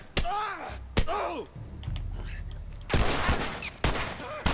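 Gunfire in The Last of Us comes as several sharp, loud single shots spaced about a second apart. Game noises and groans fill the gaps, and voices talk in between.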